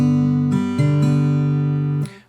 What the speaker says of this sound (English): only really need to use one finger on the low E string on the third fret, and that's gonna sound like this.